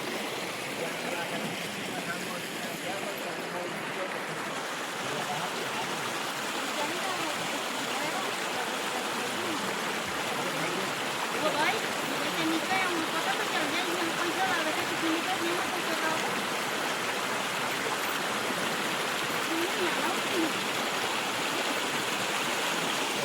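A river flows steadily beside dense forest, its continuous broadband rush of water holding an even level throughout, with no distinct events standing out from the wash.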